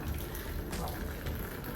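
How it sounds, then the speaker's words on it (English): Water is poured gently over chamomile tea in a strainer, a soft, continuous trickle that stays faint throughout. "So I'm going to pour in 2 cups of water"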